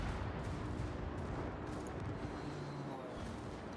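Naval guns fire in a World of Warships battle, a dense continuous rumble of booming shots and explosions filling the whole stretch at steady loudness, with no clear gaps.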